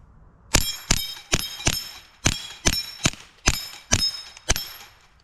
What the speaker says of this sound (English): now we're gonna run the tiny little dueling tree there. We'll start with the TX22